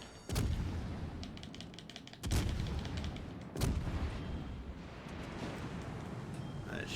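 Naval guns fire in World of Warships Legends during a tier 7 cruiser battle, three heavy booming salvos spaced a second or so apart over a constant rumbling battle din.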